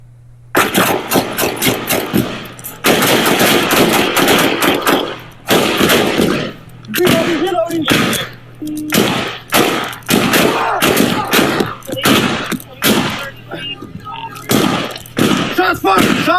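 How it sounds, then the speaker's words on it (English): Police rifle gunfire during an officer-involved shooting in Indianapolis, loud close shots cracking in long sustained bursts and then shorter separated volleys, over a constant low hum with some shouting mixed in. "Shots fired! Shots fired!"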